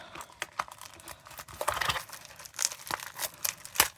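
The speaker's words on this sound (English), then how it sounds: "I wonder if I can just tear it" A package holding 3D printed drill trays being torn open by hand, close crinkling and ripping of wrapping in uneven bursts, with small crackles and sharper tears toward the end.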